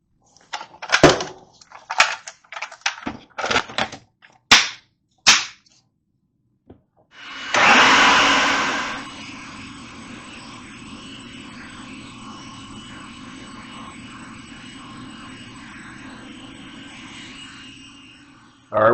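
A food processor purees hummus, its motor starting loud, then settling into a steady whir that runs alone for about ten seconds after a few knocks and clatters of the lid being fitted.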